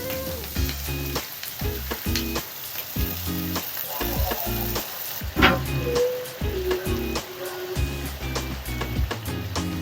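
Rohu fish masala sizzles in hot oil as it is stirred, with a steady frying crackle broken by frequent clinks and scrapes of a spatula against the pan, close and moderately loud.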